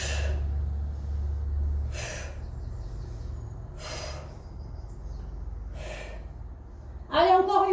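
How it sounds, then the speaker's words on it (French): A person breathes out and in during a waist and belly exercise, with four evenly spaced breaths near the microphone over a low hum and a brief voice at the end. "Je souffle, j'inspire."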